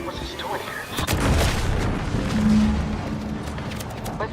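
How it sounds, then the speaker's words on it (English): A deep explosion rumbles through the video game The Outer Worlds 2, a heavy boom with rolling low reverberation that swells and lingers under a continuous background of game sound. "What's that? An explosion?"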